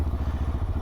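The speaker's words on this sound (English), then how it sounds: "It's a very easy start. It's got a surprisingly deep exhaust note." A Benelli TRK702X motorcycle engine idles and revs with a deep, low exhaust note, a steady pulsing throb repeating quickly and evenly, close and moderately loud.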